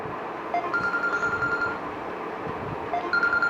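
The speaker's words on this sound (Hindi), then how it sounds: "ये बीच में फ़ोन कॉल और डिस्टर्ब कर देते हैं" A phone rings with two short bursts of electronic ringtone chirps separated by a pause, moderately loud over a faint background hum, with no one speaking.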